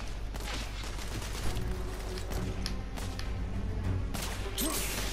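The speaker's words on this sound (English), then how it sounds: "I'm taking fire." Gunfire in The Order: 1886 video game: a rapid scatter of sharp cracks and thuds, several close shots punching through a dense, noisy battle background.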